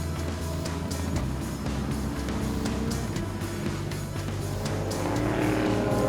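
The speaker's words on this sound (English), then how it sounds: "There's the incident zone up at Les Combes as the cars now, at a slightly quicker pace, actually go by." Race cars run through the Les Combes section of a circuit during a race, engines droning and rasping steadily as they pass, a continuous loud motor roar with a slight swell toward the end and no voice over it.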